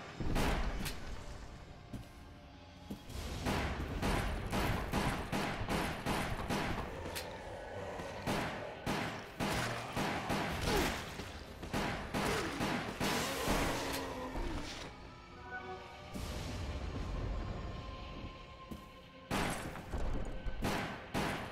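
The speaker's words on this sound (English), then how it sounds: "we have unlimited ammo, so let's just kill everything that's in our path, shoot everything off the walls" Rapid gunfire bursts in a Resident Evil mansion video game, loud, repeated shots fired in quick clusters with brief pauses between volleys, alongside thuds and crashes.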